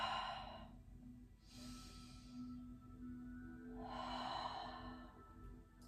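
Two deep, slow breaths held in a yoga pose, long airy exhales a couple of seconds apart, close and soft over a faint steady hum, with no talk.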